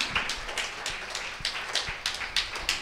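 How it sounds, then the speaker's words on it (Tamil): A church congregation at a sermon claps in a steady rhythm, a series of sharp, evenly spaced smacks at moderate distance with a faint room background. "ஒரு சம கையை தட்டு."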